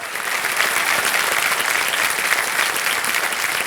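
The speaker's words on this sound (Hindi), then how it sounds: "जनता से अनुरोध है कि जोरदार तालियां बजती रहें" Audience applause in the studio of the quiz show Kaun Banega Crorepati, a dense, steady round of clapping that fills the whole stretch with no break and no voices.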